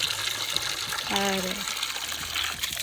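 A village spring spout runs with a constant close splashing flow of water, while a voice briefly speaks over it.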